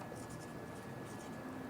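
Chalk or marker scratching across a classroom board during a Hindi chemistry lecture on electrochemistry, a steady, close, continuous scraping with no speech over it.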